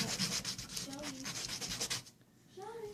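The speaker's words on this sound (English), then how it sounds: "So you want to sand both edges" Sandpaper rubbed back and forth along the edges of a wooden sign piece, a rhythmic scratchy rasp in repeated strokes, close by, with a voice talking over it before it stops and talk continues.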